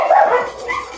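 A dog barks once in a short, loud, close yelp that trails off, with no talking over it.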